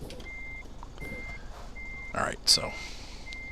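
In Euro Truck Simulator 2, a truck's reversing alarm beeps at an even pace, evenly spaced tones under someone speaking briefly, with an engine humming beneath.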